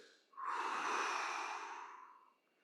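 A single long, audible exhale from an instructor during a floor-based movement therapy exercise, close and breathy, swelling quickly and fading out over about two seconds.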